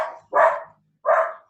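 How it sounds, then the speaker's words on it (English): Pet dogs bark indoors, two sharp close barks with a short pause between, loud and clear with no talk over them. "I'm sorry, my dogs are going nuts."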